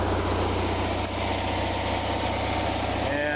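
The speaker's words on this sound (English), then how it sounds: "generator is definitely running a lot smoother than it was the last video" An Onan generator runs steadily on an RV with a continuous low, even engine drone and hum that holds a constant level throughout.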